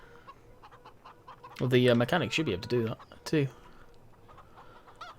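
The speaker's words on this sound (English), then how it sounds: "The chickens like to lay the eggs over in the corner too." Chickens cluck around a hen house in the farming game Farming Simulator 17, soft and steady in the background while someone speaks over them for a few seconds.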